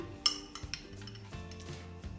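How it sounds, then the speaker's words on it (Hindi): Fresh strawberries drop into a blender jar, giving a sharp clink near the start and then a few softer knocks and thuds against the jar, close and fairly quiet with no voices. "अब हम इन सब इंग्रेडिएंट्स को ब्लेंडर में डालते हैं। सबसे पहले हम स्ट्रॉबेरी ऐड करेंगे।"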